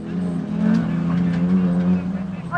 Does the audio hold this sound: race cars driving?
yes